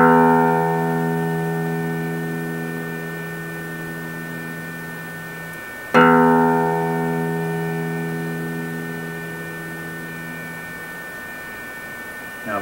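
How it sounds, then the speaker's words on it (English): The low E string on an acoustic guitar is plucked twice during tuning, each note ringing loud and sustained with a sharp attack, then slowly decaying. "And I'm going to hit the big string, which is the E string,"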